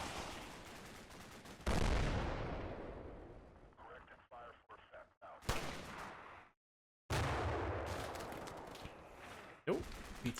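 Gunfire in a firefight from the video game Combat Mission: Black Sea: loud bursts of rifle and machine-gun fire with heavy booms, broken by brief quiet gaps and a short stretch of rapid crackling shots.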